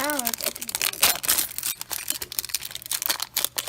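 Plastic wrapping of a LOL Surprise Lil Sisters doll ball crinkles and tears close up, a dense run of sharp crackles and rips that continues steadily, with a brief voice at the start.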